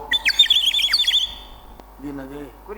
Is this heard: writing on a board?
no